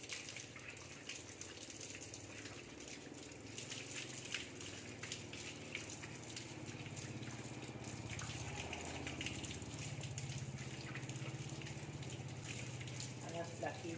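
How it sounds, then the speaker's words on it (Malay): Tap water runs steadily over the hands and forearms up to the elbows during ablution before prayer, a continuous close splashing gush with faint voices in the background. "Kemudian basuh tangan sehingga ke siku."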